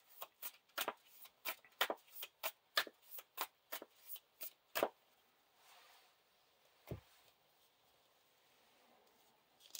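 Cards from the Lord of the Rings living card game are shuffled and handled: a fast, even run of crisp riffling snaps, then a soft rustle and one last single snap.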